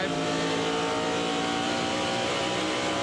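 NASCAR Cup race cars lapping at Rockingham or Phoenix in 1997, a dense, loud, continuous engine roar from several cars running close together, steady throughout without any breaks.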